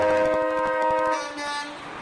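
Truck horn honking in a parade, a loud, close, sustained multi-tone blare that fluctuates briefly before tapering off.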